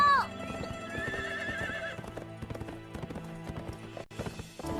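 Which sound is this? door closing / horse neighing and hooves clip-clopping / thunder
horse neighing and hooves clip-clopping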